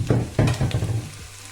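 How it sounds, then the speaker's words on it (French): Tomatoes tipped into a hot pot of Congolese fumbwa hiss and sizzle loudly, with a couple of sharp splashy bursts followed by settling, crackling frying up close. "I'm gonna pour tomato inside."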